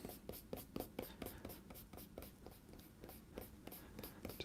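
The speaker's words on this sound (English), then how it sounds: "kneaded art gum eraser. And I can use this to gently erase out these lines" A kneaded art gum eraser rubs pencil guidelines off paper in a soft, quiet run of repeated short scrubbing strokes, close up and steady.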